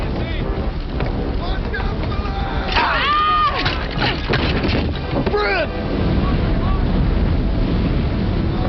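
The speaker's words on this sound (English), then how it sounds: "Firestorm's creating its own wind" A wind driven by a raging firestorm makes a loud, constant roaring rush, with shouting voices breaking through it.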